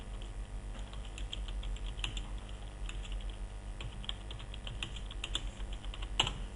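Computer mouse double-clicked on a word while editing in MS Word 2007, heard as faint clicks among light keyboard taps over a steady low room hum.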